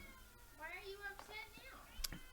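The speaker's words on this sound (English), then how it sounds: "My cat has decided to join us for this." A pet cat lets out a couple of drawn-out, rising meows close by, followed by a short clatter at the end.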